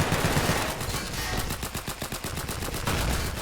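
Rapid automatic gunfire in an SCP roleplay video game, loud dense bursts of shots hammering on for several seconds with no voices over them.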